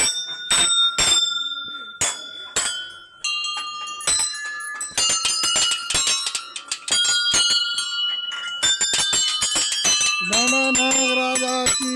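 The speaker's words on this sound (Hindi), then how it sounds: "ये देखिए घंटियां।" Metal temple bells at Sem Nagraja temple ring loudly and repeatedly, with overlapping strikes and long shimmering decays, then a rapid clattering run of chimes near the end.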